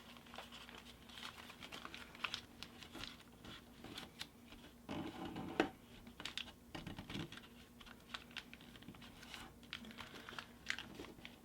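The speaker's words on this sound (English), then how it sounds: "we're going to fold over so that this edge meets this point" Origami paper crinkling and creasing as it is folded for a baby dragon model, close and quiet, with irregular soft rustles and small sharp crackles.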